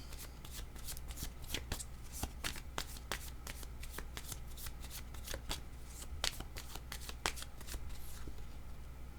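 Tarot cards being shuffled by hand, a close, quiet run of rapid papery riffles and flicks repeating in irregular bursts against a faint low hum, with no talking.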